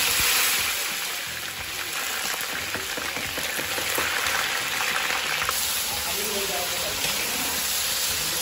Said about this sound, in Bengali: এই যে পেঁয়াজ দিয়ে দেওয়া হচ্ছে।